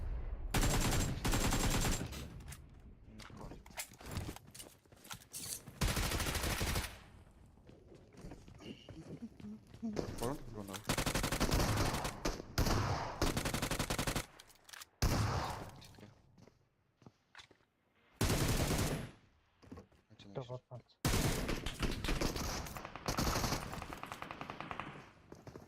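Bursts of PS12 gunfire in a PUBG Mobile match, loud repeated volleys of shots broken by sharp silences and quieter stretches, with footsteps and excited talk weaving through.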